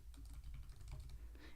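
Fast, light keystrokes patter on a computer keyboard in a quick irregular run, close and fairly quiet over a low room hum, with nobody talking.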